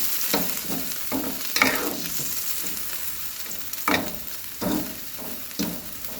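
Vegetables with onion, garlic, a little sugar and salt stir-fry in a pan, sizzling steadily under repeated scrapes and tosses of a spatula.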